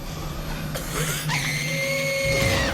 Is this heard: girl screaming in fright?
yes